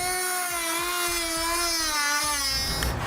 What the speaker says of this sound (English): We'll then need to trim a notch out of the other side of our air deflector.